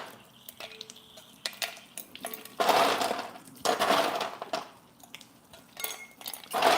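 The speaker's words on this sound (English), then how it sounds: "And now we're going to be adding ice" Ice goes into cocktail glasses in a series of close clinks and rattles, with a few louder bursts of cubes tumbling and sliding against glass between quieter pauses, no talking.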